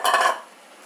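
Moong dal added to a cooking pot of vegetables, giving one brief close rattling rush of dry lentils hitting metal that quickly fades.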